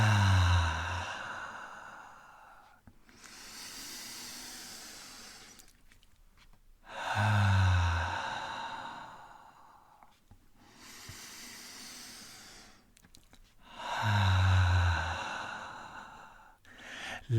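A deep, slow inhale followed by a long release of breath during a guided meditation, repeated three times in an even rhythm, close and soft, with hushed airy breathing filling the quiet between.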